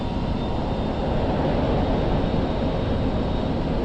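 A jet engine roars in full afterburner at takeoff in the DCS flight simulator, a loud, steady, broadband rumble that holds without a break for a few seconds, with no voice.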